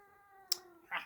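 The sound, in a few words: pet cat yowling and singing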